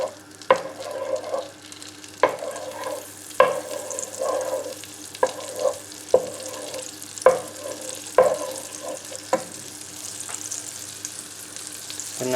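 Butter melting over medium heat in a pan for a classic fish pie, a soft continuous sizzle broken by periodic scrapes and clacks of stirring at a fairly regular rhythm, with no talking.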